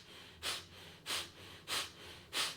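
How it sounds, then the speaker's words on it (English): Four sharp, forceful breath exhales from a Kundalini yoga breathing exercise, evenly spaced about every 0.6 seconds with quiet passive inhales between, close and alone with no talk. "It's a forceful exhale and a sort of passive inhale."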